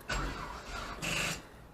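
Nissan KA24DE four-cylinder engine on a long-parked car, cranking in two short bursts separated by a pause, moderately close and fairly quiet, without settling into a running idle.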